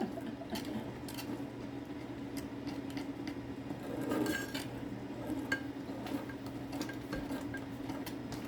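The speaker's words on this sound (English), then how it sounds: "I'm only stirring for a second" Faint metal clinks and taps of a utensil against a pan while plant sausage cooks, sparse and irregular over a low steady hum.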